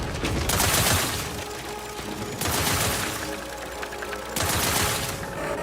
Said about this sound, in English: Why are you shooting the ceiling?